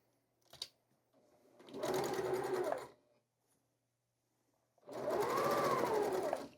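A sewing machine stitches quilt seams in two clear bursts of rapid mechanical whirring, each a couple of seconds long, separated by quiet pauses and a brief click.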